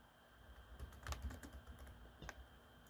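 Keys clatter on a computer keyboard in short irregular bursts of typing, close but fairly soft, with a faint steady background hum and no voices.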